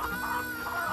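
A chicken clucking in the Nancy Drew Secret of Shadow Ranch video game, a short run of pulsing, nasal clucks, loud and close, with no talking over it.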